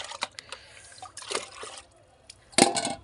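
Water is poured into a pet's drinking bowl at home in short splashing and trickling bursts, with a louder gush near the end, close and moderately loud, with no talk over it.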